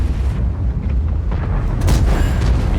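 A tank cannon fires in World of Tanks, a deep booming blast that swells near the end of a continuous low rumble of battle, loud and close with no talking.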